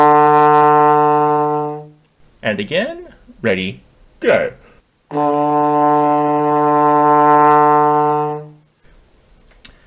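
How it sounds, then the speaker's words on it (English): A trombone sustains a steady low D note, then someone speaks briefly before the same long D sounds again, close and full, ending in quiet. "Let's try that D together."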